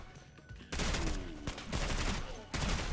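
Rapid gunfire from the Chimera Rapid or Warpig in SULFUR, loud, sharp bursts of shots in quick succession, close and punchy, separated by brief lulls.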